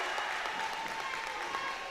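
Crowd at a high school boys basketball game, a brief wash of cheering and clapping from the stands, spread out and moderately loud throughout.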